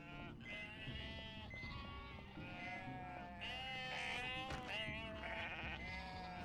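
Repeated sheep bleats from the video game Unmetal come in overlapping wavering calls, loud and close, layered over continuous game audio for several seconds.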